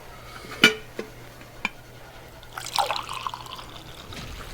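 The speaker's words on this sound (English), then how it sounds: "Pour me some more coffee." Coffee poured in the game Warframe: a couple of sharp clinks, then a short liquid trickle and splash into a cup, close and quiet, with no talking.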